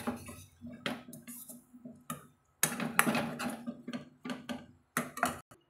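A ladle tosses chilli parotta around a pan in irregular bursts of metallic clinks and scrapes, some close and sharp, separated by brief quiet gaps.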